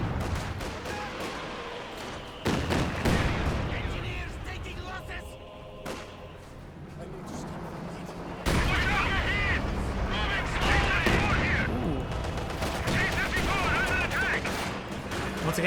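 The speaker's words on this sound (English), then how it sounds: "Close range Katusha barrage. This next volley hits that grain silo." Katyusha rocket barrage and mortar fire from the Company of Heroes 2 strategy game: dense, continuous volleys of booming launches and impacts, with a sharp louder surge of blasts midway, while a commentator talks over the battle.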